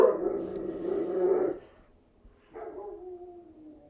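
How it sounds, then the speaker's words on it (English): Dogs howling in a drawn-out, wavering cry that fades, then a second lower howl rises after a short gap, moderately near and with no talking. "I'm not sure if my dogs are going to stop and if we should wait or just power through."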